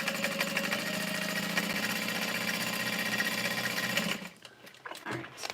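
Leather Emily bag being stitched on a sewing machine, a steady close mechanical whir with rapid rhythmic needle clatter for about four seconds, then stopping, leaving a few quiet handling sounds.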